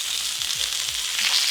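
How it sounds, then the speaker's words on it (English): Chicken skin sears in a pan during chicken confit cooking, giving off a loud, continuous crackling sizzle with faint low scraping thumps underneath. "So now we'll just sear these for a few minutes until that skin is nice and crispy"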